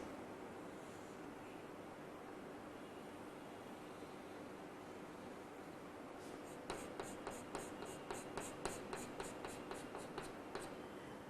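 Marker strokes on a classroom board as a teacher draws a diagram of the prostate gland, a quick run of short, rhythmic scratching taps near the end after a quiet stretch of room hiss.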